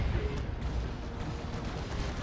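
Orbital bombardment strike in Dawn of War II: Retribution, a dense rolling roar of blasts and rumbling impacts, loud and continuous throughout without speech.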